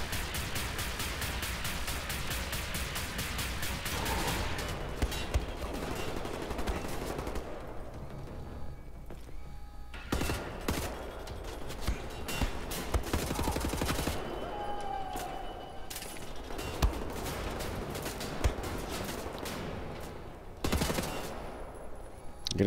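Relentless gunfire in a WWII shooter game, dense bursts of machine-gun and rifle shots coming from all sides, loud and near, with brief lulls and occasional explosions throughout.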